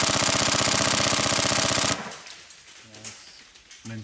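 A Tokyo Marui MP5 SD6 NGRS airsoft gun fires one loud, rapid, evenly paced burst for about two seconds, then cuts off abruptly. Quieter, faint knocks and clatter follow.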